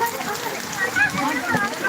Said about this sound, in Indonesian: Masih hujan.